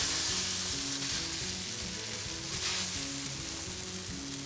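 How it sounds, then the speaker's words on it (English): Soba buckwheat noodles fry in a hot pan for a stir fry, a loud continuous sizzle with some stirring, steady throughout. "we're gonna fry these soba buckwheat noodles"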